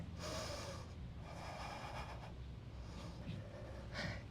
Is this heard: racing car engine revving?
no